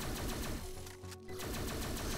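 Rapid automatic gunfire in the video game Neon Chrome, a dense stream of sharp shots with a brief dip in the middle before the firing resumes at full pace.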